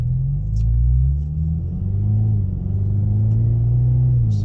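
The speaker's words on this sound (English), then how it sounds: "So with moderate acceleration, it's got a nice deep performance sound." Deep, steady exhaust drone from a 2022 Ford Maverick MRT with a dual-tip street exhaust accelerating moderately at highway speed, a continuous low rumble that swells and eases slightly as the pitch climbs.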